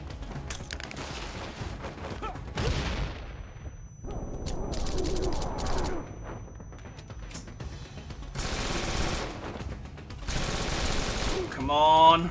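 Gunfire from a gun in the action game Wanted: Dead, heavy repeated bursts of automatic shots with loud broadband blasts between stretches of combat noise, fairly close and continuous, with a voice speaking over parts of it.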